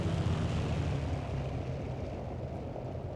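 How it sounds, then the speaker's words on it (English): A WWII propeller plane engine drones loudly and steadily in Battlefield 1942, a dense continuous roar heard close from the aircraft with no other sounds. "Oh god, that's a German plane."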